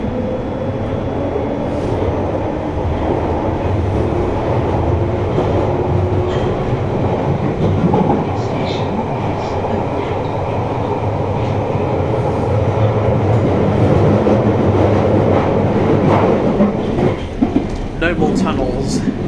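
A London Underground Piccadilly line train, carriage 864, runs steadily between Heathrow Terminal 4 and Cockfosters, a loud continuous rumble and roar with rattling wheel noise throughout, faint clicks near the end.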